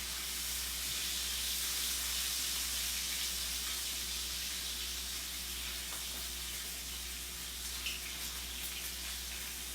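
Bacon sizzling in a pan during meal prep, a constant bright hiss that stays steady and fairly faint, with no talking over it.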